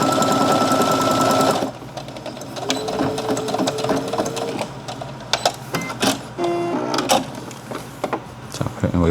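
A sewing machine stitching with a presser foot at a 0.75 setting, a loud fast run of mechanical stitching that stops, followed by scattered clicks, whirs and short bursts of needle movement.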